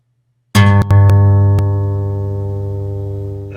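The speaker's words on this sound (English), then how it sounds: "I think this was a low E string" A recorded low E string on a guitar is played back as one loud plucked note with a sharp attack and steady harmonics that slowly fade, with a couple of faint clicks near the start.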